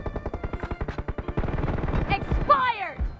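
Rapid bursts of enemy gunfire in an Android shooter game, a fast regular volley of shots followed by denser overlapping fire with ricochet-like whines near the end.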